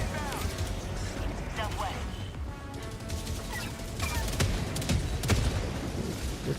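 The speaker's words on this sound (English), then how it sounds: "What's happening? Who is shooting you?" Gunfire in a game, bursts of shots and clattering impacts over a dense, noisy mix, with a voice talking through parts of it.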